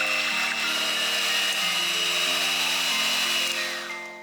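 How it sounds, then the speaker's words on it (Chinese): An electric egg beater whips egg whites with lemon juice and sugar in a bowl, giving a steady, loud, unbroken motor whine that runs the full length and eases off slightly at the end. "先加一点，用打蛋器打发"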